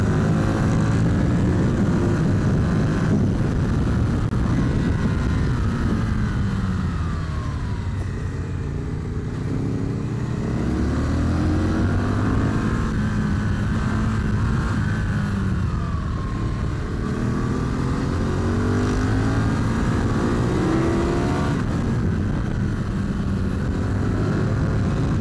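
Sport motorcycles, twin-cylinder bikes, ride up the Lagarde mountain road through smooth third-gear corners, engines droning loudly and continuously with shifting pitch sweeps as they rise and fall through the bends, no speech.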